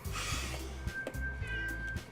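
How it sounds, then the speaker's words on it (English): A cat meowing in the visual novel game Doki Doki Literature Club, two or three short meows over a steady low background hum, fairly clear and close. "Oh, hey, cat."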